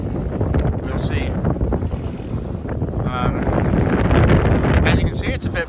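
Steady, loud wind roars across a double-reefed sailboat with its jib out at sea off Mexico's Pacific coast, broadband gusting rumble with faint water noise, continuing under a voice.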